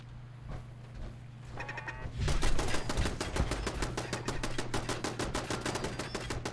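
Turrets in the video game Fallout 4 shoot at the player in a rapid, steady stream of sharp, evenly spaced shots that starts a couple of seconds in and continues to the end.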